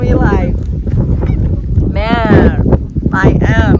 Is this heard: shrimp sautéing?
no